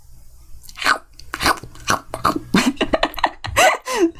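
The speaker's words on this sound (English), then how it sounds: "The sound of baby carrots being crunched." Baby carrots crunched between teeth in a rapid series of sharp, close, crisp bites and chews, loud and uneven in rhythm, with no talking.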